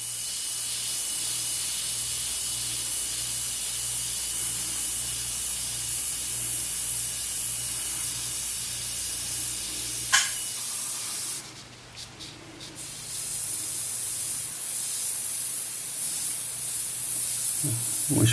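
A Hansa 281 airbrush sprays paint with a steady, even hiss that runs nearly the whole time. The hiss drops briefly once, with a few small clicks, then resumes.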